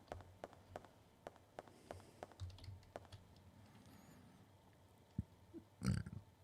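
A single short, low burp erupts close to the mic near the end, after several seconds of soft computer keyboard typing and scattered clicks during a retro Dino Crisis gaming session.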